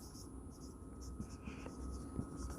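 Chalk or marker scratches and taps on a board in a thermodynamics classroom, close and moderately loud, with quiet breathy speech and room noise underneath.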